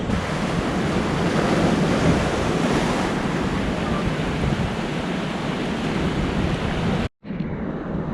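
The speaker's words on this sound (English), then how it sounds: "our little rock pool is over there, and it just keeps getting belted by waves" Ocean waves pound a rock pool on a Fraser Island shore at dead low tide, a loud continuous roar of surf mixed with heavy wind buffeting the microphone, briefly cutting out near the end.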